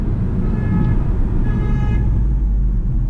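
Car horns toot over a steady rumble of evening street traffic in Aldeburgh, a couple of sustained honks rising above the continuous road noise.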